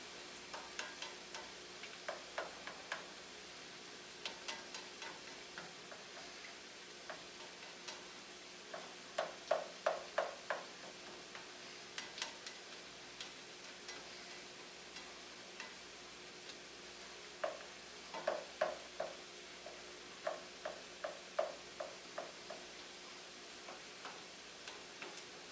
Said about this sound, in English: just work the egg around with your spatula